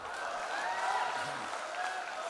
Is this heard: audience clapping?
yes